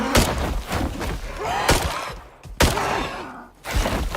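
Gunfire in the survival video game Dangerous Horizons: a string of sharp, loud shots, some close together and others spaced apart, with rumbling thuds in between.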